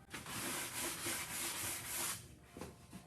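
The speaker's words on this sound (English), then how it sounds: "I love these sanding blocks because it's good for the grip." A sanding block rubs back and forth over a wooden vanity, giving a steady, close, rasping scrape in long strokes that ease off near the end, with a few shorter passes following.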